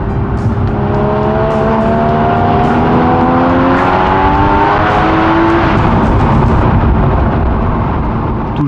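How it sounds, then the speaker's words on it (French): A Porsche with a sport exhaust roars steadily as it accelerates on a road, loud and close throughout, its engine note climbing in rising sweeps with no voices. "l'échappement sport est d'office sur le véhicule, quoi. Voilà. On peut l'entendre quand on accélère, c'est quelque chose de grisant."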